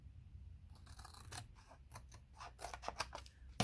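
Scissors snipping through a laminated greeting card, a quick run of close, crisp cuts that quicken toward the end, with no talking.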